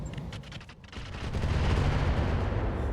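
Mech weapons fire on a Sky Raider Vanguard in the RogueTech video game, a dense barrage of rapid gunfire-like bursts that builds into a sustained rumbling roar of impacts and explosions.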